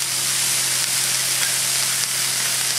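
Beef kabobs sizzle loudly and steadily on a grill, a dense close hiss with faint clicks as they are flipped.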